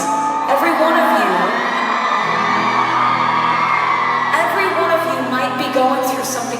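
A large concert crowd in Amsterdam screams, whoops and cheers continuously, loud and dense throughout with high shrieks rising above a steady roar.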